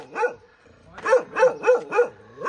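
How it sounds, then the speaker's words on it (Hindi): A desi street dog barks along a path near an old temple, one bark then a quick run of four sharp, fairly close barks, with no voices. "तो अगर सारा ये तो को कुत्ता भौंकन लगे है, देसी कुत्ता है।"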